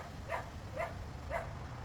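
A stray dog stirred up by a starting lawn equipment motor gives four evenly spaced, muffled barks from a distance over a low background rumble.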